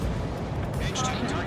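Missile strike explosion in the combat flight game Ace Combat 7, a dense rumbling blast over a constant roar of jet and battle noise, with a voice talking over it.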